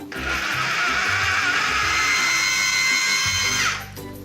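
A food processor whirs loudly and steadily for several seconds while blending potatoes, cream, milk and butter for aligot, then spins down and stops.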